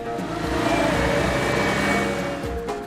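Truck engine carrying Islamic boarding school students to market, with a steady mid-pitched running drone that stays close and even for about three seconds.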